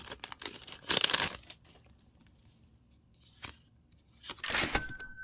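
A Magic: The Gathering Doctor Who collector booster pack torn open by hand, crisp foil crinkling and ripping in a few close, loud bursts separated by quiet pauses.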